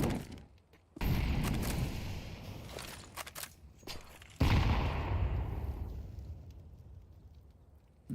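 Pistol and AK rifle fire from a Counter-Strike esports playoff match: loud broadband bursts of shots and rattling gunfire that swell and fade, with no commentary audible.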